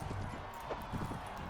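A horse gallops during a joust, its hooves making a quick, faint clip-clop rhythm in a short burst with no voices.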